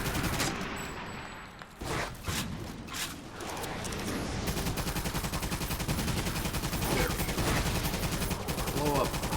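Rapid bursts of machine-gun fire and explosions ring out in the Toy Soldiers: Cold War video game, with dense, sustained volleys and a few sharper blasts across the whole stretch.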